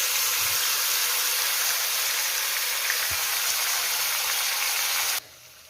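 Marinated cauliflower for a vegetarian roast hitting a hot pan of oil with ginger, giving a loud, steady, close sizzle that cuts off abruptly near the end.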